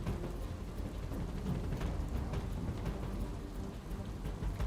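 Heavy monsoon downpour during flooding in Surat, a dense, steady roar of rain with low rumbling underneath, loud and continuous throughout with no voices.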